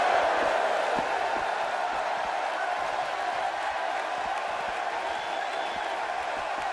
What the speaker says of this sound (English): you can bet this crowd is fired up for this match